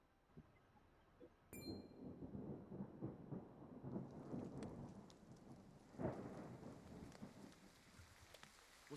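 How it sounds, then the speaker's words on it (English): Video game rain and thunder: low rolling thunder rumbles over a steady wash of rain, with a sudden bright crack near the start and the downpour thickening midway. "Rain! Honest to goodness, rain!"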